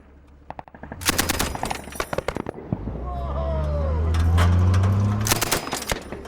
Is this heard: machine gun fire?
yes